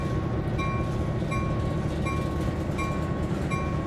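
Locomotives rolling steadily on rails in the Peninsula Corridor train simulator, a continuous close rumble with faint rhythmic clicks and tonal whines recurring about every three-quarters of a second.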